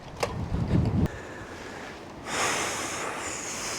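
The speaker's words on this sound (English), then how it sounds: "God, the wind is really picking up." A strong wind gust buffets the microphone in an outdoor garden, a sudden roaring rumble followed by a steady, loud rushing wash of wind noise.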